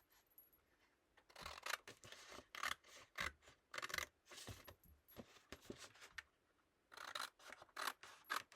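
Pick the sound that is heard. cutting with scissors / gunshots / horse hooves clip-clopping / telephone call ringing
cutting with scissors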